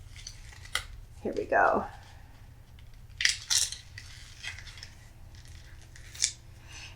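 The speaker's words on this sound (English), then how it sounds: "I'm going to just have to rip this box open." A sealed cardboard box being ripped open by hand, with a short tearing rasp followed by sharp crackling snaps and rustles, close up. A person briefly speaks.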